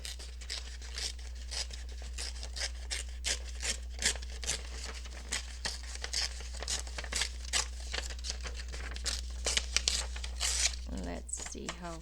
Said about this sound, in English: I think I'm going to tear this.